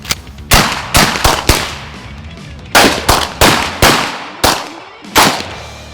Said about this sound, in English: We shot guns.